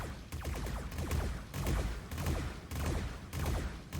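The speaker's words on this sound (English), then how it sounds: "And now they're all firing very, very close to one another" Robocraft 2 weapons firing in bursts, grouped volleys of rapid heavy shots repeating about every half second to a second, loud and close with no talk.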